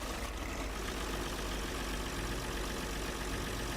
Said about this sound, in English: I probably need the engine on to start harvesting.